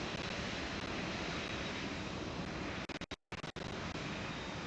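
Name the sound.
large airplane after landing, from the video game PTFS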